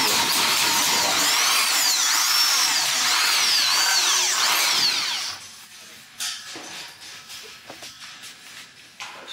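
A power drill whines loudly and steadily into material on a house construction site in the Philippines for about five seconds, then stops, leaving scattered knocks and handling sounds.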